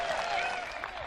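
Crowd at a disc golf final round applauding and cheering a throw, a steady dense wash of clapping and voices throughout.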